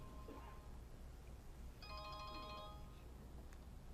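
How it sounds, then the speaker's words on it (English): A cell phone rings with a faint electronic melodic ringtone, a short burst of tones sounding quietly over a low background hum. "That's my cell phone."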